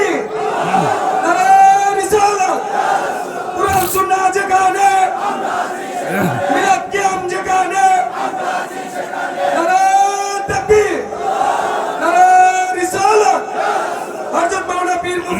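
A large crowd at an outdoor Islamic sermon gathering roars the takbir in loud, repeated swelling shouts, waves of massed voices rising and falling continuously throughout.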